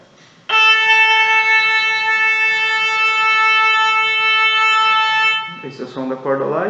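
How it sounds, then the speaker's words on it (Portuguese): A single long bowed note on a violin's open D string, held steady and bright for roughly five seconds close up, then someone begins speaking as it stops. "Esse é o som da corda Ré."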